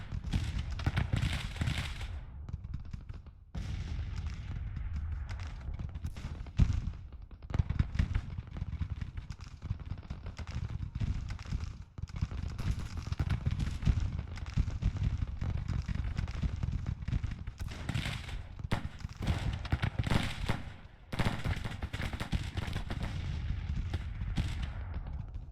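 Scattered musket volleys and gunfire crackle steadily through a Civil War battle in the strategy game Grand Tactician: The Civil War, with dense overlapping reports, occasional louder cracks and a continuous rumbling battle din.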